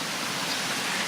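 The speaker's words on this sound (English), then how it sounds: "now it's raining very strongly" Heavy rain pours down along a trail in Japan, a dense, even hiss of falling water that stays steady and fairly close for a brief moment.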